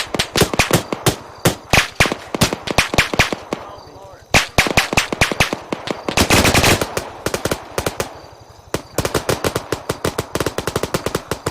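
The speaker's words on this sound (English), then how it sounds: "Oh my god, he's shooting at us." Rapid automatic gunfire rattles almost nonstop in Arma 3 combat, loud bursts of dense shots with brief pauses between volleys and a short, heavier sustained burst midway.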